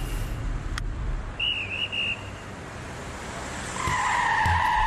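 Tires screech as a car brakes hard on a city street, a sharp squeal that breaks off and then returns louder and longer near the end.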